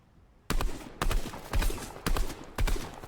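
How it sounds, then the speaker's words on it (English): Gunfire in a battle royale video game comes in five loud, rapid bursts separated by short pauses, each one sharp and close, after a quiet start. "I'm getting shot at!"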